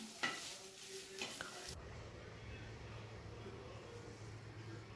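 Chopped ginger and garlic hit hot oil with fenugreek and mustard seeds for a Kerala-style fish pickle, bursting into a loud, steady sizzle after a few clinks of a spoon against the pan.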